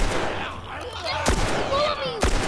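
Gunfire in The Last of Us, with two sharp loud shots cutting through a dense, noisy game mix of ambience and tonal sweeps.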